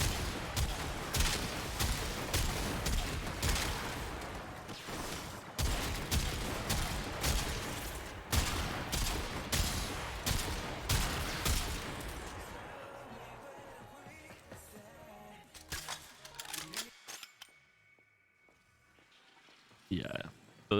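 Trumna primary fire in Warframe: rapid, steady automatic bursts with a sharp, punchy attack for about twelve seconds, then sparse scattered shots and quieter game sounds, with a voice talking over parts.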